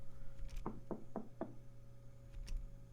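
A door is rapped four times in quick, even succession, followed by a quieter single tap, close-sounding over a low background hum with no voices.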